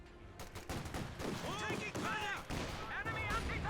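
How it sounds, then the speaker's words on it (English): An anti-tank gun fires during a Company of Heroes 2 battle, with sharp cannon reports and bursts of gunfire layered among chaotic combat noise, loud and busy while a voice talks over it. "And AT gun starts opening up."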